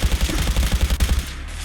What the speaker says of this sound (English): That minigun